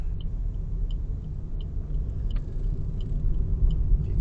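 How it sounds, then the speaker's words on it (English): A car's turn signal indicators tick in a faint, steady rhythmic clicking over the low rumble of the running car, with the radio off and no voices. "Hopefully the indicators can be heard on the microphone."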